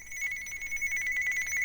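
A telephone rings with a steady electronic tone repeating in rapid pulses, clear and moderately loud in a quiet room.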